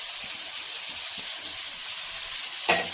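Cabbage and other vegetables sizzle steadily in a non-stick pan, a continuous bright frying hiss with faint stirring clicks and a brief louder burst near the end.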